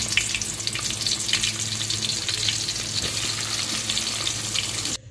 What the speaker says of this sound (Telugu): ఉల్లిపాయ పచ్చిమిర్చి వేసేసుకొని బాగా ఫ్రై చేసేసుకోవాలండి